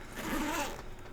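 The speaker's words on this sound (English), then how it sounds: "If you pull the zipper all the way to the front" Zipper on a Prodigy BP-2 bag being pulled in one steady, close rasping run lasting about a second, with no talking.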